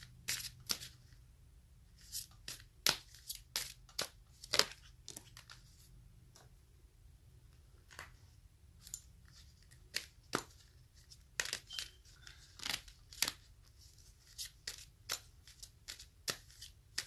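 Oracle cards, including chrysanthemum cards, are shuffled by hand in soft, crisp riffles and taps, irregular bursts of papery flicks close by in an otherwise quiet room.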